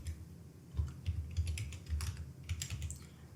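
Keys clatter on a computer keyboard in short irregular bursts while text is typed in an editing program, close and fairly quiet with no one talking.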